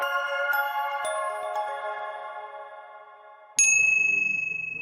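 English handbells made in Japan ring out in clear sustained tones, a chord decaying slowly before one bright, loud strike near the end rings on and fades, with no voices.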